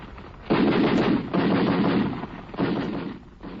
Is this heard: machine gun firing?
yes